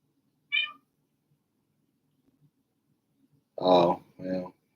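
A house cat gives one short, high meow, then after a pause two louder, longer meows close by in quick succession, in an otherwise quiet room.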